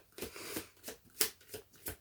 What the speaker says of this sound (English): sorry, in the middle of shuffling, doesn't matter